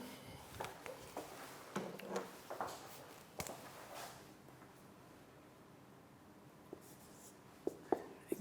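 Marker or chalk writing on a board in a lecture room, a series of short scratchy strokes in the first few seconds, fading to quiet room tone with a few faint taps near the end.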